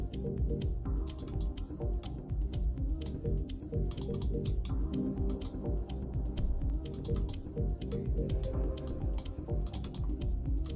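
Rapid, irregular computer mouse clicks repeat throughout at close range, mixed with keyboard-like tapping over a steady low background hum, with no talking.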